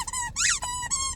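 A squeaky dog toy is squeezed repeatedly in a store, giving a few quick, close, high-pitched squeaks in rapid succession.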